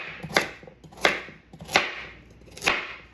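A knife chops carrots on a board for bone broth in four distinct, evenly spaced strikes, each a sharp clack against the wood, close and clear with no talk.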